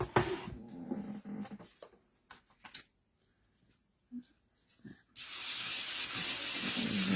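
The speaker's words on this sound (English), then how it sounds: "give this one another sand" Sandpaper rubs over an origami butterfly picture in short, quiet strokes near the start, then after a pause a steadier, louder abrasive hiss runs continuously to the end.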